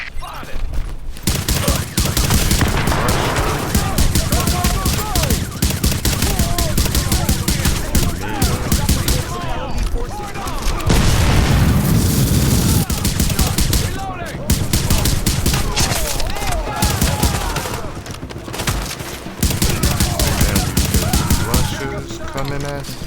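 Heavy, sustained gunfire from The Division, a fight at Grand Central: dense overlapping bursts and rapid shots roll on loud and close for the whole stretch, with brief lulls and faint voices beneath.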